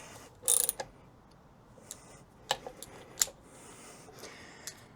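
Screws being tightened into the plastic bracket of a retractable garden hose reel, heard as scattered close ratcheting clicks and ticks of a driver, with one sharp burst at the start and quieter intermittent clicks after.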